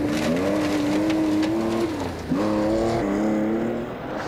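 A rally car takes a wide slide round a hairpin on Elibank stage in the Scottish rally, its engine note loud and near, holding steady, dipping briefly as the car slides, then climbing again as it pulls away.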